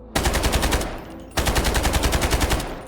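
Rapid automatic assault-rifle fire in the shooter game Delta Force, two loud sustained bursts of evenly spaced shots, the second following a short pause, with no voices.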